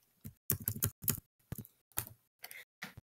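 Keys on a computer keyboard are typed in short, separate clusters of quick clicks, close by and quiet, with brief pauses between the bursts.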